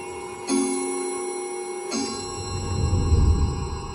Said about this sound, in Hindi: तभी दीवार घड़ी पर 3 बजने की आवाज हुई।